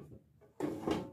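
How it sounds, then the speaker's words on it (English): An air fryer's non-stick basket drawer slides open in a home kitchen with a quick, close scraping clatter, a brief scrape-and-thump burst following a quieter start. "this particular kind, like this, when you pull out the drawer"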